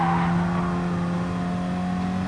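A race car engine in Gran Turismo Sport drones loudly and steadily at high revs through a brief lift before braking, a sustained close-up tone with no pauses.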